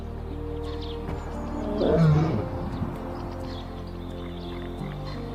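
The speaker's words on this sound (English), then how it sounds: "another roar answers, deep, distant, unmistakable" A deep lion roar rolls in from far off on the savannah, swelling once near the middle and fading, over a steady low ambient hum.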